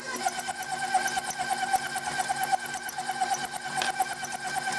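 An electric stand or hand mixer at medium speed whirs steadily as it creams vegetable shortening, with a continuous motor drone and fast regular beater pulsing throughout, fairly close and alone without speech.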